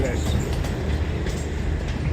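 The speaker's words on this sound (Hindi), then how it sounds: "ये दोनों ट्रेन्स आज हमने फिल्माई।" Awam Express trains rumble through Dina railway station, a dense, steady low roar of rolling wagons heard at close range with no break.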